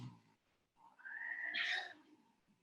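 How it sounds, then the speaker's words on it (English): A house cat yowls and caterwauls in a short cat fight, a rising drawn-out cry that peaks and then fades, faint against a quiet room. "I'm stopping a cat fight."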